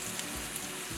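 Diced onion, garlic and poblano pepper sizzle in butter in a skillet, a short, steady, moderately loud frying hiss with a couple of soft bumps.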